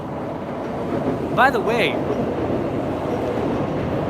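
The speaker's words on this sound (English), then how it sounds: "That's the bullet train going by. That's the Shinkansen." A Shinkansen bullet train rushing past on a street in Ginza, Tokyo, a steady loud roar that fills the whole stretch while someone speaks briefly over it.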